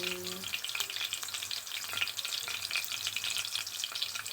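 Garlic frying in hot oil in a pan, a steady close crackling sizzle that runs unbroken throughout, with faint stirring and no voices.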